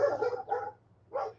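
Guard dogs in Manglaralto, Ecuador bark at a stranger on a motorcycle, three sharp barks at moderate distance with a short pause before the last.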